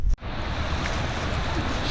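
Rushing creek water flows steadily and loud close to the microphone, a broad continuous wash with wind buffeting, briefly cut near the start.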